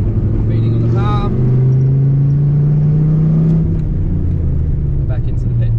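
A car with an 8.4-litre American muscle engine drives on a track, its deep engine rumble droning loudly and steadily while a person talks over it.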